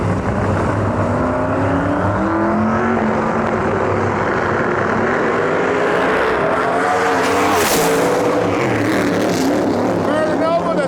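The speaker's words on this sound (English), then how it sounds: "Murder Nova stepping up into the beams with his twin turbo Camaro" Twin-turbo Camaro roaring down the drag strip on a qualifying pass, loud sustained engine wail with rising harmonics as it accelerates, over crowd and announcer chatter at a street-car nationals event.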